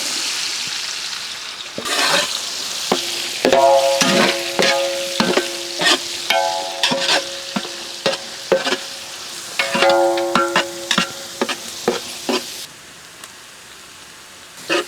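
Thinly sliced onions frying in ghee with cloves, cardamom, cinnamon and shahjeera, giving a loud, close sizzle. Repeated stirring clatters and a steady tonal hum run through the middle before it quiets near the end.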